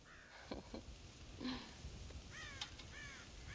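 Crows caw repeatedly in the Red Dead Redemption video game, harsh calls in short bursts over a steady farmyard ambience, moderately close and fairly loud.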